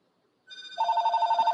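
An incoming spam call sets a telephone ringing again, a sustained electronic trill that starts faintly and then rises to a loud, pulsing ring with no talking over it.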